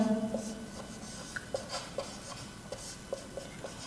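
Marker or chalk scratching across a classroom board while someone writes a cost-price figure: a string of brief, faint strokes and taps in an uneven rhythm over a quiet, hissy room, with no talking.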